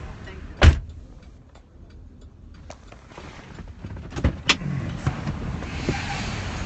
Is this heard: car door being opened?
yes